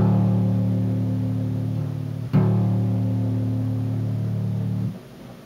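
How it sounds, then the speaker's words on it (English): A bass guitar's low string detuned to drop D rings out as a sustained low note, with a second note struck midway and then left ringing before it cuts off, played alone with no talk. "your low E string right here on top becomes a D, and it's going to sound like this."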